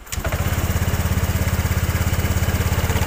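A Honda Vario 125 motorcycle engine starts with a brief crank, then settles into a steady, close, loud idle with an even pulsing rhythm throughout.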